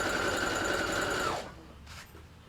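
A sewing machine stitching quilt block seams runs fast and close for about a second and a half, then stops abruptly, leaving quiet room noise.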